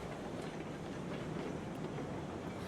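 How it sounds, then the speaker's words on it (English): Train rolls along rails in the railroad game Railroads Online, a continuous low rumble with faint clickety-clack from the wheels, steady and moderately distant with no voices. "I'm going to hop back on the train and ride down with you"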